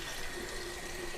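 Shower water running steadily indoors, a continuous hiss of spray with no breaks, faint and alone with no one talking.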